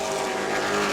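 A full field of race trucks roars past on an oval track at a family fun night event, a loud, dense, continuous engine drone with no speech.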